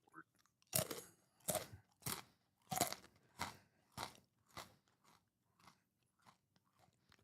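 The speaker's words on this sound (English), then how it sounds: "I'm eating Snack Factory Bites. Thin and crunchy pretzel snacks with sea salt." Thin, crunchy Snack Factory pretzel bites with sea salt are chewed close to the mic, a series of about ten crisp crunches in a steady rhythm that gradually grow quieter, with no talking.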